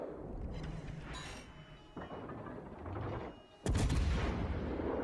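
Naval guns firing high-explosive shells in World of Warships: Legends, with the Tulsa premium ship in battle: a steady rumbling mechanical bed with bursts of firing and a loud booming salvo near the end.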